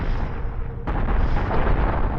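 Ship thrusters exploding in a video game space battle, a loud rumbling blast that swells suddenly and keeps roaring heavily, with no talk over it.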